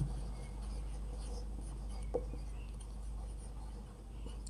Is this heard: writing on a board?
yes